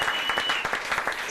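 A church congregation claps and cheers together, a dense, steady burst of applause from a crowd filling the room for over a second.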